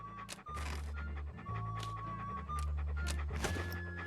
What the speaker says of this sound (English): What a ferocious-looking dog. Hello, little doggy.